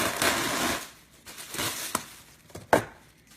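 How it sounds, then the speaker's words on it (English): Plastic saran wrap being stretched and pressed over a bowl of no-knead bread dough, loud crinkling rustles in bursts with a few sharp snaps near the end, close by and without talk. "Put some saran wrap on it."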